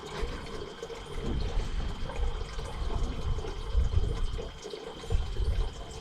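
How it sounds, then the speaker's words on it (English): Water trickles slowly from a tap into a cooking pot, a soft steady splashing stream with faint gurgles, fairly quiet and without voices. "A little bit of a slow trickle"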